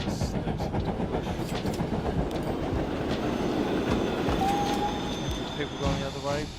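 Trains rolling along in the Transport Fever 2 simulation, a steady dense rumble with clickety-clack rhythm and brief wheel squeals near the end, continuous and fairly loud under a voice.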